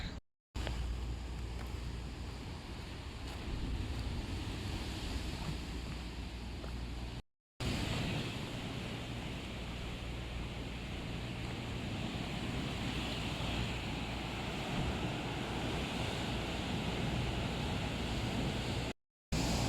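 Ocean waves break on an island shore in Cambodia, with a continuous rushing wash of surf and wind buffeting the microphone for about twenty seconds, broken by two brief cuts to silence.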